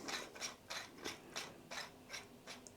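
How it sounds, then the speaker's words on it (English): Car charger mount clicked onto a dashboard air vent and screwed tight, giving a run of eight evenly spaced, close ratcheting clicks from the tightening mechanism, with nothing else heard. "You click that round the back of the vent, then screw it back in"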